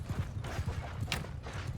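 Horses of mounted horse archers in a Tamerlane-era battle video game: a rapid, rhythmic clip-clop of hooves at a steady gallop, moderately close, with faint battle noise behind.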